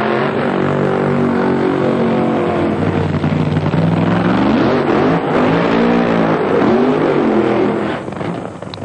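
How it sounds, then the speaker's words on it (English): Two NHRA drag racing cars, including Ray Higley's Redline Oil Landair Express car, do burnouts at the 1997 Pennzoil Nationals. A loud, sustained engine roar rises and falls with revving and holds steady for several seconds, close and without talk. "Both cars doing their burnouts."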